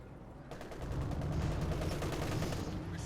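Rapid gunfire and field gun shots from a Company of Heroes 2 battle crackle in a dense, continuous barrage, loud and close, with a low rumble beneath.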